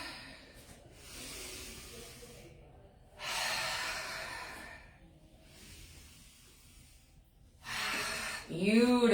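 Deep breathing during a morning stretching routine: slow, breathy inhales and exhales in alternating bursts, soft and close, with a brief vocal sound at the end.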